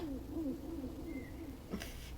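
Arana, a character in Dragon Age: The Veilguard, gives a few soft, low hooting coos like an owl, a person's voice imitating the bird over a steady game ambience, followed by a brief faint clatter near the end.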